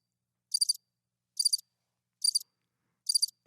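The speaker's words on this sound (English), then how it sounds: "hit it with the crickets" Four evenly spaced bursts of cricket chirping, crisp and high-pitched, play alone in otherwise silent air, each short trill separated by a pause of nearly a second.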